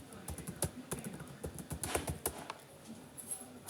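Fingers tap quickly on a computer keyboard, a close run of crisp irregular clicks with short pauses between bursts.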